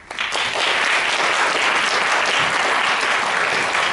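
Loud, sustained applause from a conference audience welcoming a speaker to the stage, a dense wash of clapping that swells quickly and holds steady for several seconds.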